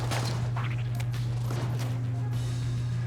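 Gunfire in the Enter The Gungeon video game, rapid bursts of shots over a steady humming game soundtrack, with a voice briefly audible.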